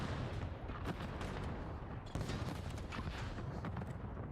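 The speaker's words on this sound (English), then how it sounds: "First blood to Fellow is everything just exploded." Explosions and gunfire at the start of a Call of Duty League match between the Los Angeles Guerrillas and Seattle Surge, a dense continuous barrage of booms and shots with sharp bursts throughout.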